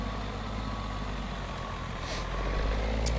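A custom Kenworth truck with a long chassis, hauling a trailer in a truck simulator game, rumbles steadily as it reverses. Its reversing alarm beeps at a steady pace, and air-brake hisses burst out near the end.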